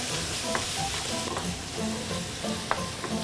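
Liver frying in a pan sizzles steadily and loudly, with a utensil stirring and scraping through it in a few soft clinks up close, and no voices.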